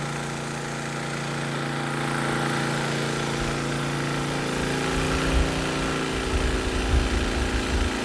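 Westinghouse iGen4500 generator running under about 75% load from two air conditioners and several TVs: a steady, close, droning engine hum that stays constant with a slight rough flutter in the low end.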